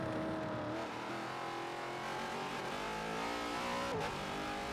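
A V8 race car in a racing game on a qualifying lap at Bathurst: a steady, loud engine drone with rising and falling revs as it swings through gears, heard up close with no talk.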